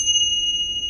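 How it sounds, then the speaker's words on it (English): Chimes ringing with a steady pure high tone that sustains evenly throughout, loud and close with no talking. "And chimes, listen."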